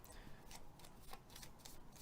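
A deck of game cards is riffle-shuffled nearby, giving dense papery flutters with a few sharper snaps from the cards, continuous for about two seconds.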